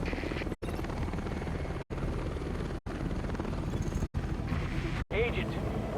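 Helicopter rotor drone in a PvE survival video game, a steady broadband whir running throughout with brief cuts, under continuous talk.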